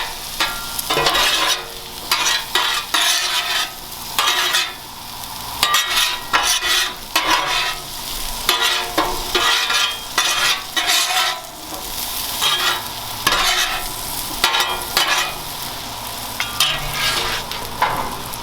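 Potatoes with steak seasoning fry on a Blackstone flat-top griddle. A loud, continuous sizzle runs throughout, broken by repeated metal spatula scrapes and clatters as the potatoes are turned and mixed.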